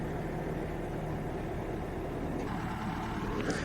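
A backhoe works to lift a 7,000 pound AquaDam in Stockton, California, its diesel engine giving a steady low rumble with a brief clank near the end.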